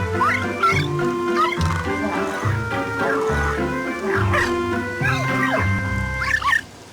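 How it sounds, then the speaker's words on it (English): A small cartoon dog in Luigi's Mansion 2 digging in the ground while barking and yipping, with repeated bouncy tonal barks, quick rising yelps and whimpers close up over a light game music background. "we have this little dog here. It seems to be digging for something in the ground"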